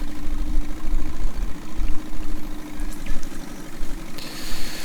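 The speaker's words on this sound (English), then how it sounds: "this is where it's struggling, because that is quite a hefty beast for such a tiny little tractor" A tiny tractor in Farming Simulator 19 labours under a hefty load on uneven ground, its engine chugging in a steady low drone with slight surges and a faint hiss joining near the end, no voices.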